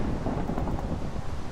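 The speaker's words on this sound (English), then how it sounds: "Let's let this storm pass." A Minecraft thunderstorm fills the scene with steady rain hiss and low rumbling thunder, a dense, continuous wash of noise with no voices.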